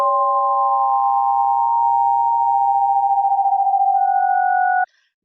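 Overlapping synthesized sine tones at random frequencies, generated faster and higher in a sound class demo, hold steady and loud with a slight warble, one pitch stepping up near the end before cutting off abruptly.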